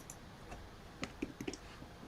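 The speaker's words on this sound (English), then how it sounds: "So this is me clicking on the image to show the screenshot." A computer mouse clicking on an image: a few faint, crisp clicks in a quick irregular cluster over quiet background hiss.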